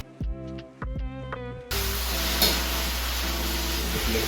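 Beef for Cambodian lok lak (shaking beef) in a hot pan: a few soft clinks and scrapes, then a sudden loud, steady sizzle and hiss as the meat is stirred while it fries, close up.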